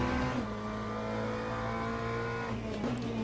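GT3 race cars, BMWs among them, roar steadily in online racing in Le Mans Ultimate, a loud sustained engine drone with shifting pitch and a slight dip as the revs change.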